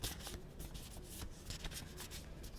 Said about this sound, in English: I've only got 12 cards, obviously, for the 12 notes that we used. So I'm just kind of shifting them all around.